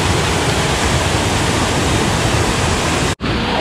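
Heavy water rushes loudly and continuously at Sebatu temple in Gianyar, Bali, a dense roaring torrent right at the microphone, cut off abruptly near the end.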